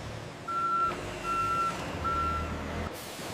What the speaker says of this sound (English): Pallets are then loaded onto trucks,